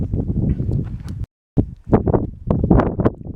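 Strong mountain wind gusting across the barren upper slopes of Mount Pugh in the Cascades, buffeting the microphone in loud rushing bursts with one brief dropout partway through.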